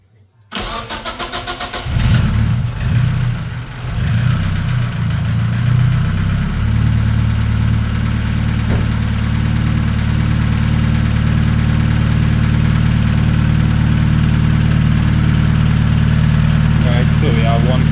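A 4G15 Mivec engine fitted with a Pulsar G25-660 turbo starts and settles into a steady, loud, close idle that holds throughout, with a faint high whine from the spinning turbo above the low rumble.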